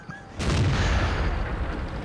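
A heavy tank cannon firing in World of Tanks, a tier 8 battle: one sudden loud, close blast that rolls into a sustained rumbling boom and decays slowly, without talk over it.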